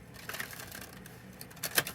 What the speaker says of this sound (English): One more good shuffle.